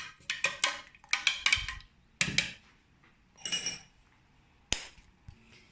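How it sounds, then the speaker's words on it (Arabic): A small spoon stirs caramel in a bowl for cappuccino caramel brioche, giving bright metallic clinks in quick clusters, then pauses and a single sharp tap, close and fairly loud. "وغادي نحركها"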